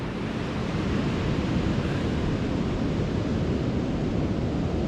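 Sea waves wash onto a very flat shoreline at Cowden on the Holderness coast, a continuous loud rushing surf mixed with wind buffeting the microphone, with no breaks.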